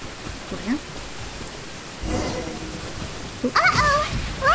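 Rain falling during a lightning storm in Genshin Impact, a steady hiss of rain with a brief louder burst, while a voice speaks over it in places.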